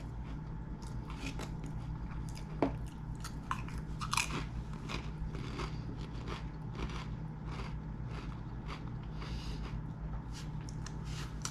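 Close crunching and chewing of a farmhouse cheddar Pringles potato chip, with sharp crackly bites over steady mouth-chewing noise, no talking.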